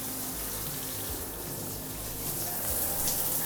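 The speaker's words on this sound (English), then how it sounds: "does it actually affect the flow of the water here in the shower?" Water pours steadily from a house shower, a constant broadband rush and hiss that swells slightly louder toward the end.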